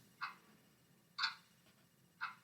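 Three sharp, quiet clock ticks spaced exactly one second apart, clean and isolated against a soft background hum.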